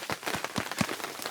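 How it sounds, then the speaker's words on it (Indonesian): Rain patters steadily on a trailside shelter at the final post on Mount Gede Pangrango, a dense close drumming with irregular heavier drops standing out. "Cuma sekarang lagi hujan."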